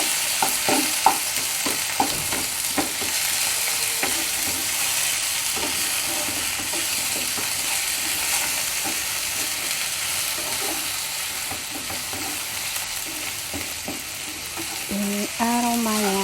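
Chicken pieces sizzle steadily in a hot pan with ginger, broken by repeated scrapes and clacks of a spatula stirring and turning the meat, with a brief clatter near the end.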